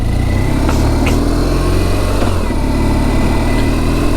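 A 2009 BMW R1200 GSA motorcycle engine running while riding, a loud, steady low throb with a continuous rumble and faint higher mechanical whine throughout.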